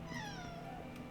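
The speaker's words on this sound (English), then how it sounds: "my cat is telling me it's time to go to bed" Pet cat giving a single drawn-out meow that slides downward in pitch, quiet and close over a low background hum.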